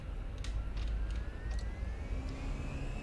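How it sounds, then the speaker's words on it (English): Airbus A320 engines spooling up for a rolling takeoff in Microsoft Flight Simulator, a steady loud low roar with a rising whine climbing gradually in pitch, and no voices. "Let's do a rolling takeoff here."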